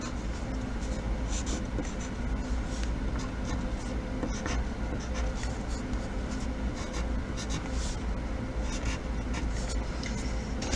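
A marker drawing short strokes on paper, sketching small bamboo leaves for a cartoon panda, giving a steady run of close, soft scratchy squeaks over a constant low room hum.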